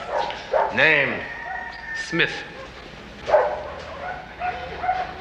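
Several dogs in pet shop cages bark and yip in short bursts, some whimpering, fairly close, with people talking in between.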